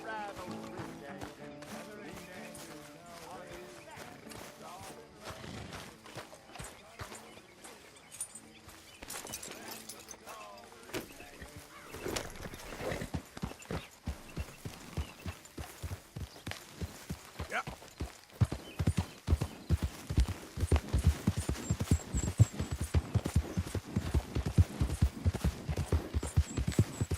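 Horse hooves clip-clop steadily beneath a rider in a Western open-world game, faint at first and then growing louder and more rhythmic as the pace picks up, with a voice speaking briefly over them.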